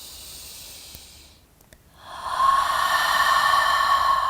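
A yoga practitioner breathes out through the mouth in one long, steady, airy exhale following a quieter stretch of inhaled breath, close and clear with no talking.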